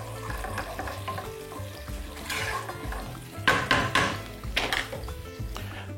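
Carrots tipped into onions frying in a pan for a beef and bulgur soup, with a steady sizzle broken by scraping stirs and a few sharp clatters of utensil against the pan, close up and with no voices.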